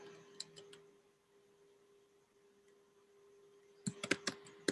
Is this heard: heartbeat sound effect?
no